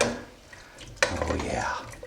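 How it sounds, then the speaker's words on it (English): Water is stirred in a pot on a stove for pork stew, giving soft swishing and a sharp metallic clink of the utensil against the pot, close up with faint kitchen background. "Let me stir it."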